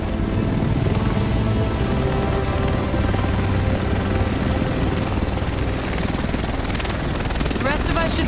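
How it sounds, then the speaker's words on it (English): Helicopter arriving in the video game The Division, a loud, steady rotor thump and engine roar filling the whole stretch, close and continuous, with a brief brighter rattle near the end. "The rest of us should be in this chopper."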